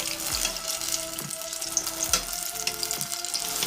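Apple fritters fry over medium-low heat in a pan, a steady crackling sizzle broken by a few soft, periodic thumps and scrapes as the pieces are shifted around.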